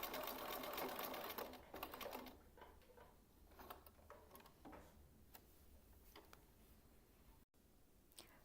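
A sewing machine stitching a piped slit with a backtack at start and end, rapid steady ticking that runs loud at first, then quieter and more broken.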